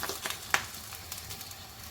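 Rice crisp fryums, far-far, dropped into hot oil, giving a soft crackling sizzle with a sharper pop near the start, faint and close.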